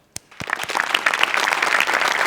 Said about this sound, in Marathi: आज तुमच्या टीमवर्कला माझ्याकडून जोरदार टाळ्या आहेत दोघांच्या.